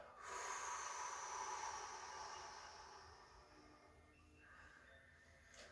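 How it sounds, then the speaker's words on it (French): A slow, steady breath out through the mouth during a calm breathing and joint-mobility exercise, a soft airy hiss that starts strong and gradually fades over several seconds. "Inspirez profondément par votre nez. Puis soufflez tout doucement par votre bouche."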